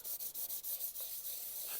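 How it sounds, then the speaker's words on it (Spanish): Fine sandpaper rubs over the stickered plastic shell of an Xbox Series X console in quick, evenly spaced back-and-forth strokes. The scratchy rasps are soft and close, with brief gaps between passes. "Y la estoy lijando por encima."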